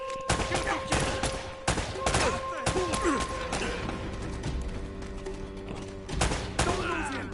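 Repeated bursts of video game gunfire, fusillades and single shots clustered into volleys across the stretch, loud and close, with thuds and crashes mixed in and a voice talking intermittently over the shooting.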